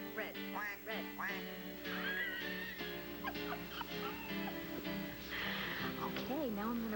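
A person imitates a duck's quack with their voice, several nasal honking calls over a continuous busy background of other voices and music, fairly loud throughout.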